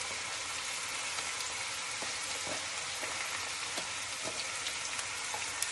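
Onions fry in a pot for chili with a dense, even, rain-like sizzle that holds steady throughout, crackling softly and close by, with occasional small pops and no talking.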